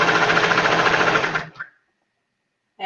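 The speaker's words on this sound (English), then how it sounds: "And sewing the 3 layers together" A sewing machine stitches three fabric layers together with a fast, even mechanical whir for about a second and a half, then stops abruptly and leaves near silence.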